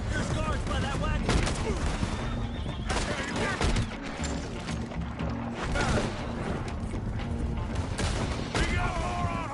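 Bursts of rapid gunfire in a video game shootout, with horses whinnying and hooves clattering through the fight, voices shouting over the chaos.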